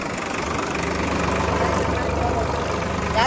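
Sonalika and John Deere tractor engines rev together at a tractor race, making a loud, steady diesel roar with knocking vibration that swells slightly at the end, and voices are heard over it.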